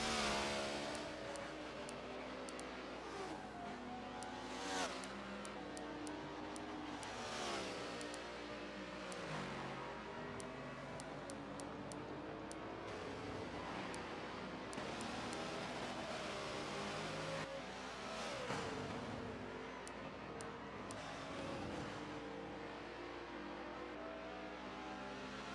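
On-board race car engine at Road America during an endurance race, a steady loud roar with rising and falling revs through gear changes and corners over a full stretch, no talk.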